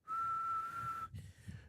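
A single steady, high whistle held for about a second, voiced in imitation of Superman's sonic whistle, then breaking off into soft breathy noise.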